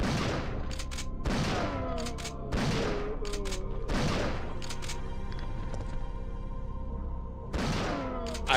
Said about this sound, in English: behold, infinite shotgun